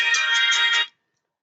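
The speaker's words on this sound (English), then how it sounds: "Sorry, my phone was on." A phone ringtone plays briefly, a bright electronic melody of a few quick pulsing notes that cuts off abruptly under a second in, followed by silence.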